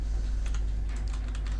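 Quick, even keystrokes on a computer keyboard as an IP address is typed, close and clear over a low steady hum.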